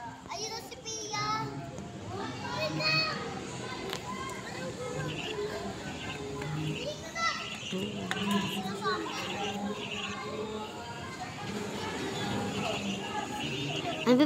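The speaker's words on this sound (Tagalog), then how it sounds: "Ingay ng mga bata dito ni." A group of children play noisily, their shouts, squeals and chatter overlapping in a continuous lively babble that fills the whole stretch.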